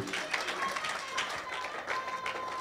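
A church congregation at a seminar in Lyon applauds and cheers for Jesus, steady dense clapping and crowd voices filling the room throughout.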